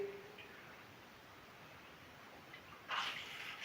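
Water running from an adjustable shower head, first a faint, soft hiss in the background, then a louder, brighter spray that bursts on near the end.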